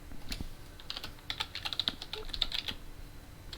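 Someone types on a computer keyboard in bursts of quick, crisp key clicks with short pauses between, close and fairly quiet, with no talking.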